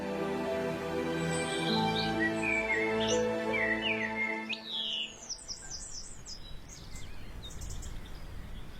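Wild birds sing in Spain's Rudrón Valley, several species chirping and warbling in overlapping phrases at moderate distance, with a steady hum beneath for the first half and a thinner, airier outdoor background afterward.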